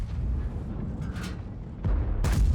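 A World of Tanks tank gun fires, booming blasts with a deep rumbling tail, one around the middle and a louder one near the end, over low engine noise.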